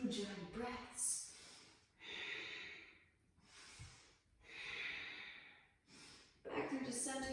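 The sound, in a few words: deep ujjayi breathing during yoga twist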